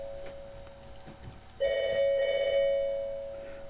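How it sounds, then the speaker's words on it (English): A telephone rings indoors with two short bursts of warbling tone that sound bright and close, the last one fading out. Quiet room noise can be heard before the ringing starts. "Sorry about that, it's just the phone."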